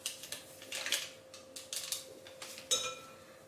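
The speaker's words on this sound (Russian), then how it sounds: "Продолжаю взбивать." Whipping cream in a bowl with a mixer after adding Sahne Steif cream stabilizer, for a strawberry cake: a faint, steady motor whine runs throughout, while the beaters clink and rattle against the bowl in irregular bursts.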